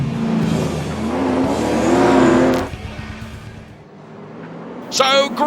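European late model race cars roar away from the grid at a race start, a loud engine swell that builds and then fades into the distance, with commentary running over the top.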